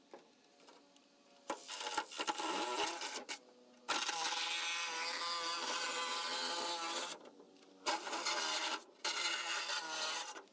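A power saw cuts a hole in the plastic rib of a Triton stormwater chamber in bursts of loud rasping and grinding, with short pauses between passes.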